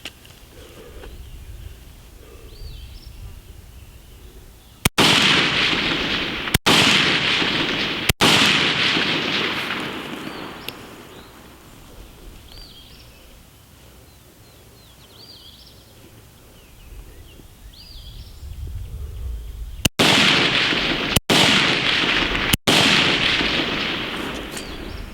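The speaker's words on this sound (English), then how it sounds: "I'm going to fire 3 rounds from a traditional prone position, and I'm going to fire 3 rounds from the off-axis prone position" Six loud, sharp rifle shots ring out at a 100-meter outdoor range, fired from prone positions. They come as two groups of three with pauses of several seconds between shots, and each crack leaves a brief echoing tail.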